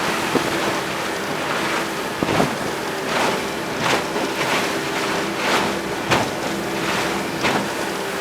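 A Fletcher Arrowflash 15 speedboat runs through choppy water in a 20-knot wind, with steady wind rush on the microphone, a constant engine drone and repeated slapping bursts as the hull hits waves.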